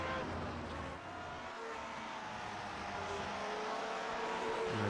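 Steady, droning engine noise from vintage Grand Prix Legends race cars on the Donington National circuit, holding at a constant level for several seconds as cars pass close by a slower lapped car, with no clear individual fly-by.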